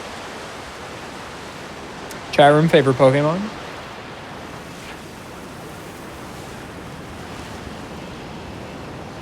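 Steady rushing waterfall ambience from Pokémon Scarlet/Violet, a broad continuous wash heard throughout, with a short burst of speech partway through.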